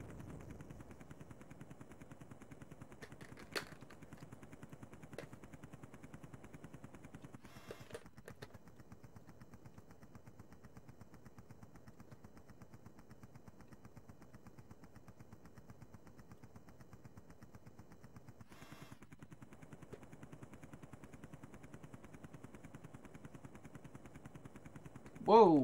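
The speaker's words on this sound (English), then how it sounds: "And now I'm being shot at." Enemy gunfire in an Amiga video game, a steady low rattle of machine-gun bursts running throughout, with a few sharper cracks standing out, fairly quiet and even.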